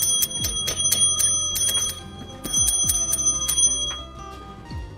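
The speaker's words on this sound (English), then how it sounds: "By the way, I almost forgot the bell." A chiming bell from Pokemon FireRed/LeafGreen, with bright repeated ringing strikes in a quick irregular rhythm over a low musical drone, clear and prominent and without talk.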